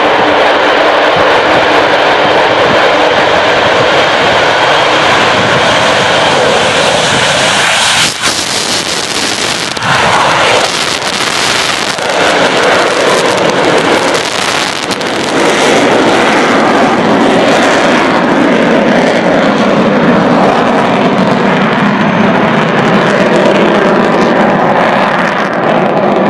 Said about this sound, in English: Enjoy the fabulous, fantastic Avro Vulcan.